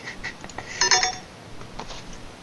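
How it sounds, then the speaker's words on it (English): Short electronic phone text-message alert, a bright tonal chime of a few rapid notes rising over a steady background hiss, heard once and alone. "Oh look, I got a text message."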